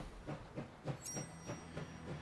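A train in the video game Last Train Home rolls along the rails with a regular clickety-clack, evenly spaced wheel beats about every third of a second and a brief hiss, quiet and steady, no talking.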